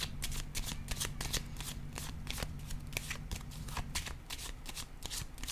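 Tarot cards riffle and snap through a rapid run of crisp shuffles, close and steady, pausing only briefly. No one talks.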